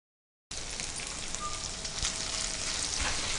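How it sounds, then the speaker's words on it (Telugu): Fenugreek leaves frying in a hot pan for a methi aloo fry, a steady close sizzle after a brief silence at the start, continuous with no talk. "ఇది మంచి ఫ్రై అవ్వాలి, అప్పుడు ఆ చేదు అనేది పోతుంది"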